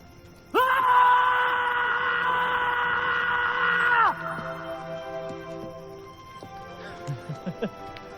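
Loud, sustained screams at the top of the lungs, one long raw voice held for several seconds and then fading into lower cries, followed by a few short shouts.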